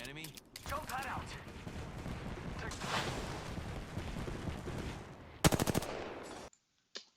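Rapid gunfire in the Apex Legends battle royale game, with 30-30 rifle shots, rattling almost continuously and then ending in a few loud, sharp close bursts near the end.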